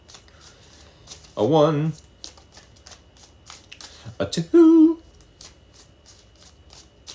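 Playing cards shuffled by hand in a quick run of faint, soft ticking riffles, with a voice counting aloud over them.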